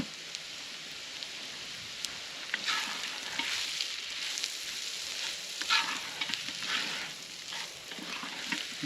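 Vegetables fry in oil in a pot over an open fire for pastalaya, making a continuous bright sizzle and crackle with occasional stirring scrapes.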